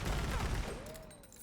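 Fully automatic explosive-round gunfire from a weapon in Borderlands 3, a loud rapid burst that quickly fades into a ringing tail and faint after-sounds.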